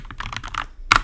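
Quick keystrokes on a Mac keyboard, a short burst of several soft clicks followed by one sharper, louder key press, typed close by with no talk.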